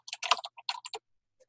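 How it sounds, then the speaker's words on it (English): Quick, close clatter of computer keyboard keys as a short word is typed, a tight burst of clicks followed by silence and one last faint tap. "type my name"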